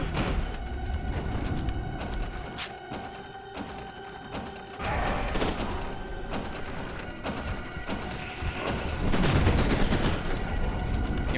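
Gunfire in the shooter game F.E.A.R. 2: Project Origin, with rapid, sharp automatic bursts and mechanical clatter in a dense, loud mix that swells and rumbles toward the end.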